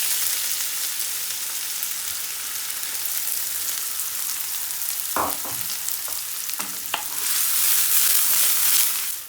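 Chopped onions frying with caramelizing cumin in a pan for an Indian restaurant-style chana chaat, a steady bright sizzle with a few clacks of stirring and a louder hiss swelling near the end.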